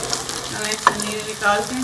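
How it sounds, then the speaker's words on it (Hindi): Chicken vegetable kababs fry in a pan with a steady, close sizzle and light crackle while someone talks over it. "इसको चेंज करके इसको मैं फ्राई कर लूँगी"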